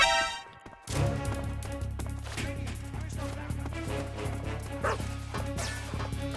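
A dog barks and yips in the Metal Gear Solid 3 game, repeated short barks over a constant low game soundtrack hum, with a whimpering edge on some calls.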